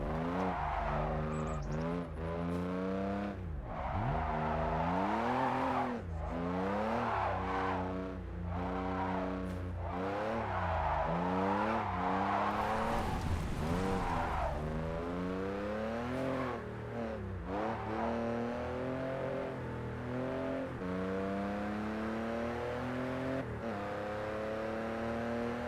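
A JDM car drifts downhill through hairpin turns, its engine revving up and down in repeated sweeping surges, with tire squeal and a steady roar heard from inside or close by.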